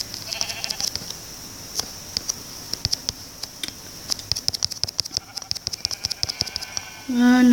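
A blocky sheep in Minecraft bleats amid a busy stream of quick in-game clicks and taps, the bleating calls coming intermittently at moderate volume.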